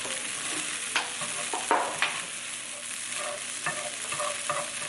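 Tofu scramble cooks in a pan over turned-down heat, a soft steady sizzle with occasional spatula scrapes and light taps against the pan.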